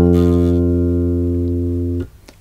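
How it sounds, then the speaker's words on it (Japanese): A single E note plucked on the D string of a bass guitar rings out full and steady for about two seconds, then is abruptly muted, leaving a faint string noise. "E の音です。"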